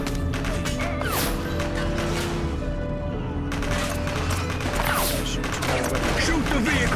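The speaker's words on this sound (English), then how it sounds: "She's shooting." Police officers and a suspect trade gunfire during a vehicle pursuit in the police game The Precinct, with repeated shots rattling over a busy backdrop of engines, sirens and game noise.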